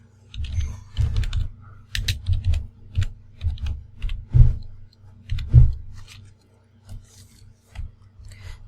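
Fingers type a short phrase on a computer keyboard, a close run of irregular soft key taps and thumps with brief pauses between bursts.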